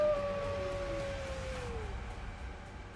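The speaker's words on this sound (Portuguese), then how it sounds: "o pastor ainda ouviria os terríveis uivos da besta durante a noite" A beast's howl as a horror sound effect: long, gliding wailing tones that slowly fall and fade over a low rumbling bed, eerie and mid-distance, with no talk.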